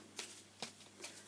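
A deck of cards being shuffled in quiet, separate riffling bursts, about three short rustles, faint and close with low room hum behind.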